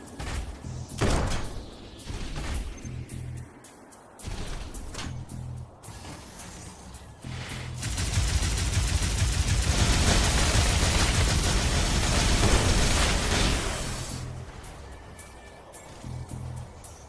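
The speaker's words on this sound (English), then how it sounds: "let's let this guy shoot me" Enemy gunfire in the video game Synthetic Man, with scattered thumps and shots early on, then a long sustained roaring barrage lasting several seconds before tapering back to sparse hits.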